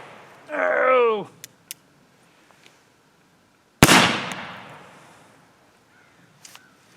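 One loud, sharp shot from a CVA black powder revolver cracks out and rings down over about a second. A voice whoops beforehand, and a few faint clicks follow.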